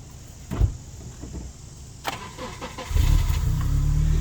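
A Honda Element's engine cranks with a few short starter bursts, then catches and settles into a loud, steady idle close by at a car meetup.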